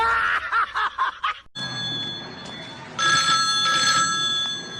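Mobile phone ringtone chiming in bright repeated tones after a burst of snickering laughter, with a second louder stretch of ringing near the end; no spoken words.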